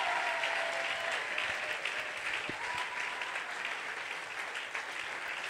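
A church congregation claps and cheers for Jesus in a steady, dense wash of applause that fills the room without a break.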